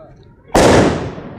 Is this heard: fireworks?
yes